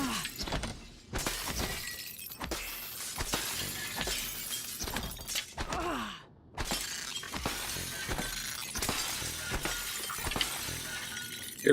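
Glass shatters loudly and repeatedly in Prey (2017), crashing and tinkling shards over nearly twelve seconds amid busy game noise, with no talk.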